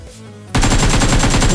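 Automatic gunfire in a shooting video game erupts after a brief quiet, a loud, dense rapid-fire burst that continues steadily to the end.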